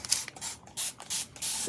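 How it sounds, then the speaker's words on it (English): Several short hissing bursts from a spray bottle misting water onto fabric before ironing, at a late-night embroidery crafting session, close and fairly quiet with brief pauses between squirts. "let me just go ahead and spray some water on here"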